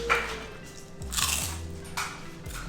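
Crunching bites of Alabama firecracker crackers, close up, with several distinct crisp chomps spread across the moment and no talking.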